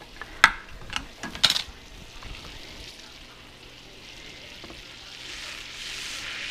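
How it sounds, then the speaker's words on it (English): Butter melting in a pan for liver and onions, sizzling softly after a couple of clanks of a utensil on the pan, the hiss building steadily toward the end. "all I'm doing is getting that butter melted down"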